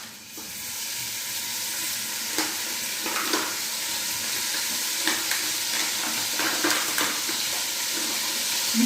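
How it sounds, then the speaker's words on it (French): Lardons frying in hot oil in a pan while cooking Haitian rice, a steady close sizzle with scattered crackles and a few sharp pops, no voices. "Dès que l'huile est chaude, vous ajoutez votre lardon."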